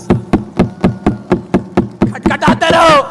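A church congregation knocks together on Bibles and purses in a steady rhythm of loud, dull raps, about nine beats. A preacher's voice then breaks in over the last strokes.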